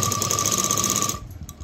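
A sewing machine stitches fabric with a steady, fast mechanical whir at close range, running continuously and then stopping abruptly.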